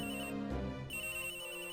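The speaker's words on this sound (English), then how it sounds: "Edgeworth, you need a better ringtone" A phone ringtone from the video game Miles Edgeworth: Investigations, a steady electronic tone with a brief low thump partway through, moderately quiet and heard alone.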